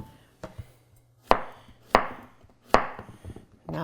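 A Shan Zu Damascus-steel chef's knife chops through food on a board in four or five sharp, close strikes spaced about half a second apart, each a crisp crunch with a short tail.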